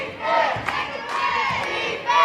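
A high school basketball crowd cheers and roars loudly throughout, a dense sustained wall of voices with swells of shouting, close and enveloping in the gym.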